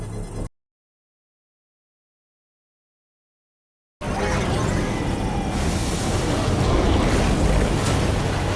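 Water gushes from an underground spring in the video game Death Stranding 2. After a brief sound and a long silence, a loud, steady, rushing roar starts and continues unbroken to the end.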